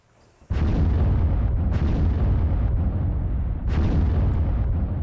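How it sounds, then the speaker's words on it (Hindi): Missile strike explosions hitting a house, a sudden loud boom followed by sustained rumbling roar, with further blasts bursting through at intervals, heavy and continuous throughout. "आप जरा सुनिए कितना भीषण धमाका हुआ है।"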